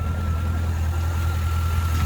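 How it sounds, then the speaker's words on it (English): A C5 Corvette engine idles smoothly and steadily, a deep, even rumble held close and loud throughout with no ticking or other noises. "It sounds pretty good when it's idling"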